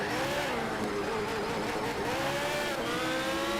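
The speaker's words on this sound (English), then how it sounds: "this Porsche has a turbo" Turbocharged Porsche engine racing in Need for Speed Shift 2, a steady loud drone with rising and falling pitch sweeps as it revs through the gears, with a brief tire squeal.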